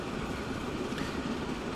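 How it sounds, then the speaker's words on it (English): A slag train in the Transport Fever game, heard from on board as it hauls slag to a construction materials plant. The rumble and rattle are steady and even, with no talk over them. "So here we are, actually on board the slag train that's going to be carrying slag to the construction materials plant."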